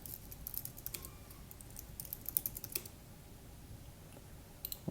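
Quick, uneven keystrokes on a computer keyboard correct a data entry, with sharp clicks coming in short bursts and a brief pause near the end, close and fairly quiet.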